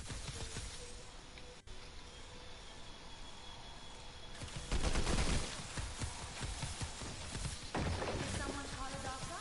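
Fortnite gunfire rings out in two loud, dense bursts of rapid shots, the first sustained for several seconds and the second following shortly after, over a busy game background with no talking.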